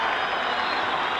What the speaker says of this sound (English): And there's Ron Manley coming off, and the great cheer you can hear.